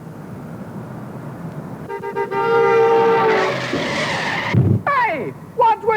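A car skids with a long high screech that sweeps and wavers for a few seconds, followed by short sliding squeals, loud and close in a comedy sketch scene.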